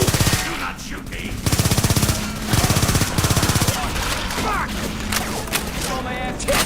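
Rapid automatic gunfire in a video game, in several loud bursts of fast, evenly spaced shots, with booms and other game effects mixed in and a voice speaking over parts of it.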